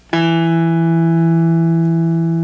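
A single guitar note picked on the 4th string at the 2nd fret in a beginner's lesson, starting sharply and ringing steadily for a couple of seconds, clear and close with no talking.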